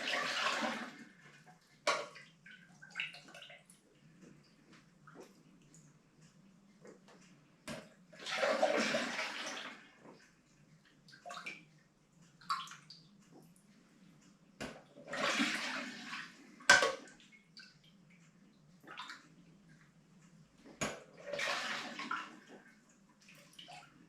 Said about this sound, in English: just letting the water drip out of it